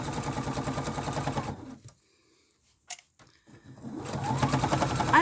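A sewing machine stitches a fabric panty liner in two close, steady whirring runs with a rapid needle rhythm, separated by a short pause with a single click.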